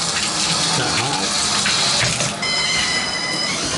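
A shower runs at full hot pressure, a loud steady hiss and gush of water close by that holds constant throughout with only a brief dip partway.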